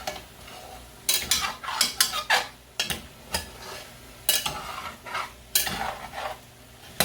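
A spoon scrapes and clanks around a pot of onions and chicken smothering in Cajun red gravy, quick bursts of stirring with a soft sizzle beneath and no talking.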